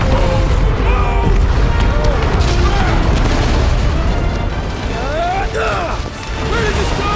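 Loud, continuous explosion and destruction in the video game Marvel's Guardians of the Galaxy: deep booming rumble with crashing debris and sweeping mechanical whines, sustained throughout with shouted character voices over it.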